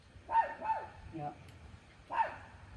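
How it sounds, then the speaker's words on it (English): A dog barks outdoors at moderate distance: two quick barks, a pause, then a third, with faint background noise between. "there's a dog barking"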